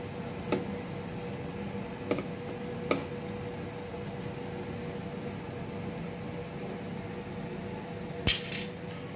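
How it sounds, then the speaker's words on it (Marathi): Stuffed baafle shallow fry in a pan with a soft, steady sizzle, broken by a few faint clinks of a utensil and one sharper knock near the end. "तर हे असे जवळपास तुम्हाला एक 15 मिनिट चांगले शॅलो फ्राय करायला लागते"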